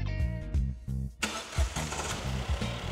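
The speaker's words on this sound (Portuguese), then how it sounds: "Ligue o motor." A Ford Ka 1.0 engine cranking with rhythmic starter pulses for about a second, then catching with a burst and settling into a loud, close, slightly uneven running note.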